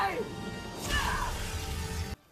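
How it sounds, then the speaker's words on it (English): The queen smashes her magic mirror in a Snow White 2025 film scene: a dense, roaring crash of breaking glass and swirling noise that sustains for about two seconds before cutting off abruptly. "The queen panics, smashes her magic mirror"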